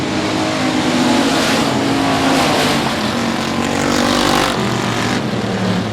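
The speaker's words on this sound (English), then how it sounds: "we'll go at it down the back straightaway into 3 on the opening lap of heat race number 4 here" Race cars at South Texas Speedway roar down the back straightaway on the opening lap of a heat race, a dense, continuous engine drone that stays loud and steady throughout.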